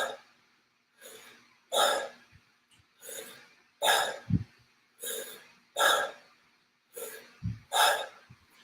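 Shamanic breathing demonstrated by a single person: a steady series of about eight sharp, forceful breaths at roughly one-second intervals, close and alone, with a few deeper snorting inhales mixed in.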